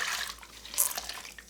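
Hot water poured and splashed over coffee gear during a rinse, a steady hiss of flowing water with a few sharper splashes, close and moderately loud, with no talking.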